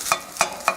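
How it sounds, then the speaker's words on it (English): Cooked leftover rice being stirred with a little oil in a frying pan for egg fried rice, three quick scraping strokes with a soft sizzle, close and clear with no talk. "just dump the rice in there. Mix it all together"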